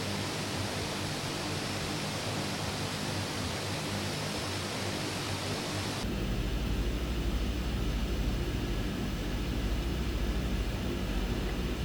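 Twin Otter turboprop engines droning after takeoff in Microsoft Flight Simulator, a loud continuous roar that shifts abruptly midway to a deeper, heavier rumble, with no talking.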